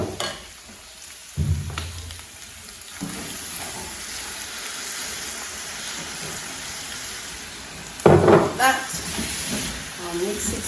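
Grated tomato goes into a hot pan and sizzles with a sudden hiss, then keeps up a steady frying crackle under brief stirring and clattering sounds, with a louder burst of sizzling near the end.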